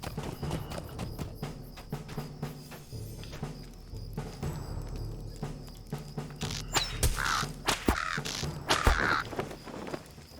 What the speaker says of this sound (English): I think we got a bird following us.